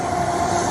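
A passing train, a loud, close, steady rumbling roar with a sustained tonal whine, heard briefly on its own.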